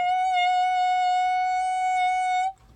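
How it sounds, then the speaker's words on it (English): A single sustained clarinet note on F sharp, steady and clear with rich overtones, held for about two and a half seconds before stopping cleanly. It plays alone and close, with no talking. "And F sharp sounds like this."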